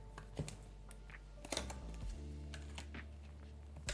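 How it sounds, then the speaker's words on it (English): Trading cards slide and shuffle into a deck box, making a run of small clicks, taps and scrapes close by and fairly quiet. "I'm pretty sure I should be able to fit the rest of these cards in here"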